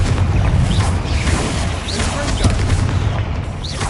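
A Confringo fire spell explodes in the Hogwarts Legacy video game, a loud, continuous roaring blast with crackling bursts throughout, layered over game sounds and a voice.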